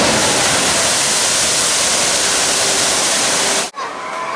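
Loud, dense rushing splash of water pours continuously in a theme-park splash zone at Universal Orlando, a close roaring wash that cuts off abruptly near the end.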